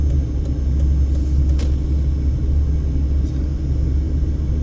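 A car drives and turns onto a street at Nellis Air Force Base in Las Vegas, a steady, loud, low road rumble throughout with only faint brief clicks and no talking.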